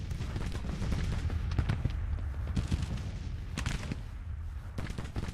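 Gunfire in the Grand Tactician Civil War battle game, with dense scattered musket volleys and rapid overlapping shots crackling continuously at a distance amid a low battlefield rumble.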